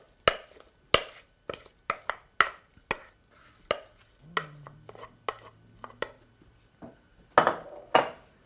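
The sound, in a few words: spreading apple cake batter into a springform pan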